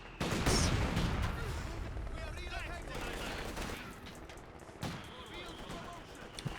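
Troops fire guns in a video game, loud dense gunshots and bursts crowding the start, then scattered shots continuing while players talk excitedly over the battle.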